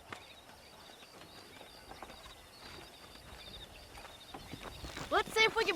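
Horse hooves clip-clop through a wild frontier setting in Red Dead Redemption, a steady walking patter under ambient wind and faint birds, closing with a brief louder burst of game sound.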